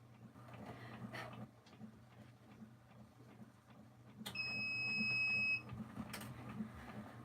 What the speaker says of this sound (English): Just need to turn the mug machine on and then we'll get making mugs.